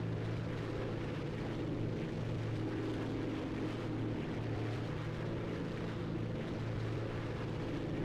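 Spitfire Mk 5B piston engine in the X-Plane flight simulator game, a constant deep droning roar with rumbling low tones that holds steady throughout, alone with no talking.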